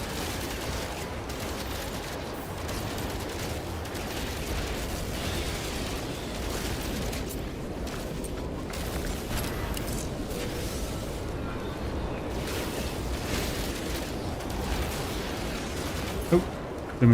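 Weapon fire and explosions in the video game No Man's Sky, a dense, rumbling barrage of blasts and rapid shots that continues steadily, with a few sharper pops near the end.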